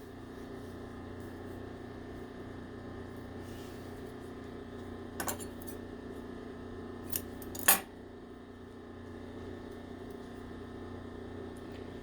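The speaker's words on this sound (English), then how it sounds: "Cut your ribbon in half." Scissors cut through ribbon in a quiet room, giving a couple of brief, crisp snips, the sharpest one near the end, over a steady low background hum.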